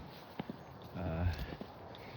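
Ponies walking on farmland, their hooves giving a few soft, scattered clops with a brief whinny-like sound in the middle, faint and at a moderate distance.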